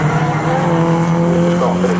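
A Mini race car on a trackday qualifying circuit comes through with a loud, close, sustained engine drone and strong steady tone, tyres squealing faintly as it passes.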